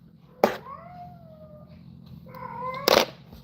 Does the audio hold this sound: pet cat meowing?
yes